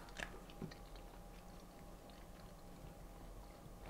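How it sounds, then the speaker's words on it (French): Quiet, close crunch of teeth biting into a sweet, followed by soft, muffled chewing in a hushed room. "Ah, voyons voir, je vais le croquer maintenant."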